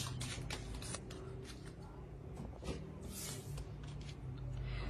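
Oracle cards shuffled by hand in quick riffling bursts, close and crisp, continuing steadily throughout, with no talking over them.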